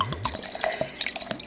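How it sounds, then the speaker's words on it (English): Aruban rum at 80 proof is poured over cherries in a jar for soaking, giving a close, trickling liquid splash with small drips and glassy clinks. "I just pour because these are going to soak for the next year"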